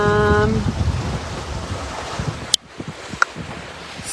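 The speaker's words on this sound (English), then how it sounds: "I'm surfing some nice waves" A small 5.8 m sailboat surfs ocean waves at sea, with rushing water and wind buffeting the microphone, a few knocks and thumps, and faint talk early on.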